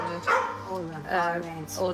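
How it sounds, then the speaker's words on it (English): A pet dog barks and yips in quick close bursts, loud and tonal, with a whimpering edge between barks. "That's my new dog."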